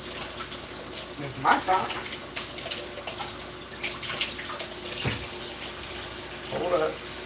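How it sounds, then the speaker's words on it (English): Water running steadily from a tap in the background indoors, a constant hiss under a person talking, with occasional clinks and splashes. "I know there's water running in the background."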